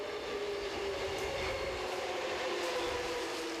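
Subway train running through Busan, a steady loud rumble of wheels and carriage noise with a sustained tonal whine, continuous throughout with no talking.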